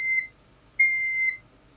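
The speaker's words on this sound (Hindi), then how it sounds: "जैसे गैस एयर एयर में आया वैसे ये जो है बजर ऑन हो गया" An electronic buzzer on an Arduino gas leak detector sounds two loud, piercing tonal beeps, a short one and then a longer one after a brief gap, close and clear over near silence.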